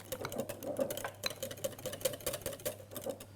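Whisk beating cream in a bowl for a Christmas log cake, a quick, regular clicking and tapping rhythm, fairly quiet and close, with no voices.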